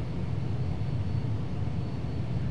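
Boeing 757 engines on approach in FSX, a steady loud low roar and hum continuing evenly throughout, with no talk over it.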